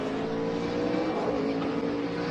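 NASCAR race cars roar along a road course toward turn 11, a loud, dense, unbroken engine drone with a steady pitch, close and continuous throughout with no talk.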